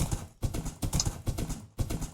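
A Minecraft horse walks along, its blocky game hooves clip-clopping in a steady repeating rhythm of loud, close thuds with brief gaps between bursts, no speech over them.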